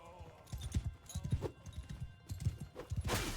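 A horse in Mount and Blade 2 Bannerlord clip-clops with rapid hoofbeats and lets out a whinny, while battle noise and a voice murmur underneath.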